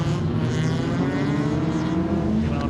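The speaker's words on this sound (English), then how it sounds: "MR2 hanging the tail out again, the mid-engine roadster" Toyota MR2 mid-engine roadster rallycross car sliding around the Blyton circuit, its engine droning steadily and loud throughout, with a sustained buzzing note close by and no pauses.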